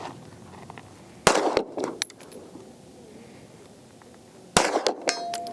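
Bullets from an H&K VP9L pistol striking steel shooting targets, two sharp ringing clangs a few seconds apart, each with a brief metallic decay over faint outdoor background.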